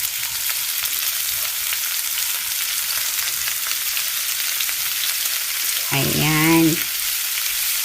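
Meat for pancit sizzles loudly in an oiled pan while being stirred, a steady bright frying hiss throughout, with a short spoken word breaking in near the end.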